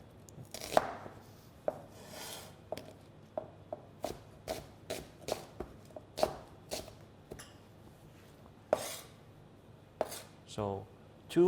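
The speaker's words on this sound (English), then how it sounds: "So now I'm gonna slice the onion. Just a roughly slice." A knife roughly slices onions for a quiche on a cutting board, producing sharp, close chops in an uneven rhythm, some quick runs and some spaced out, with no talking.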